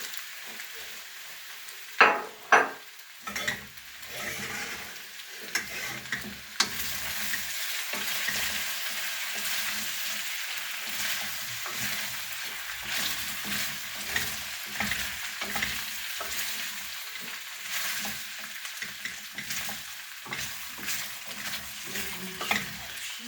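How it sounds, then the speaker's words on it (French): Minced garlic sizzles with frying potatoes in a pan, a steady close-up crackle broken by a few loud clanks at the start and repeated stirring scrapes. "je viens de mettre mon ail que j'ai émincé, que je remue bien pour que toutes les pommes de terre prennent le goût"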